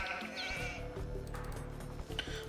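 Sheep bleating in the Age of Empires II video game, a couple of short nasal bleats over a constant low in-game background hum and faint ambient tones.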